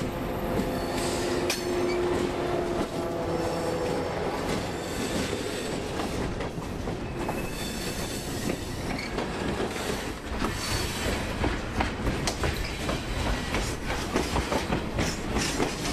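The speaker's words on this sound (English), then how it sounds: "we catch L762 again, this time coming onto the freight lead to switch a couple of customers down the hill across from Winston" Freight local L762 rolls onto a freight lead near Winston, a steady loud rumble of railcars with clattering wheels and occasional high squeals of flanges on curved track, continuous throughout.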